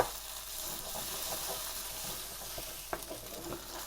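Oxtail sauce is stirred and dissolved in a sizzling pan, a steady bright frying hiss with soft scraping spoon strokes and small clicks throughout, close up and without talk.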